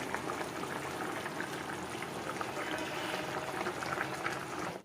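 Continuous bubbling and sizzling of a thin Bengali fish curry with potatoes, simmering covered in a pot on low gas, heard close and steady throughout.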